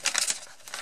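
Paper envelope being torn open, a brief crinkling rip close up, quick and crisp, no voice.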